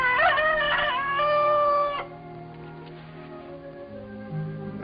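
A rooster crows loudly and close by, a drawn-out harmonic call lasting about two seconds, followed by quieter ambient background with faint distant tones.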